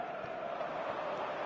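A stadium crowd in the eFootball video game chants and roars in a broad, sustained wash of voices at a football match, with a commentator's voice faintly present.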